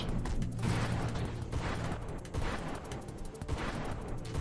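A shotgun-like weapon in the space shooter Nova Drift fires in dense, repeated blasts that blend into a continuous crackling barrage with no voices over it.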